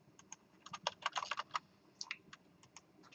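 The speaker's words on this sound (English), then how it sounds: "let's type this into Visual Studio" Quick bursts of clicky keystrokes on a computer keyboard, irregular typing that clusters in rapid runs with short pauses, fairly close and alone.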